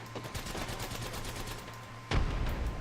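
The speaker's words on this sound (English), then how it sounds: "Somebody's shooting us with a sniper rifle. Long distance." Gunfire crackles in a rapid burst of shots in the Apex Legends battle royale, with a sharp heavy report near the end as a long-distance sniper rifle shot lands.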